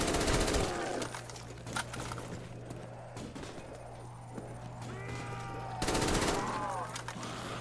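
A Galil rifle fires in Call of Duty Zombies on round 18, with loud full-auto bursts at the start and again near the end and lighter in-game clatter and effects between them.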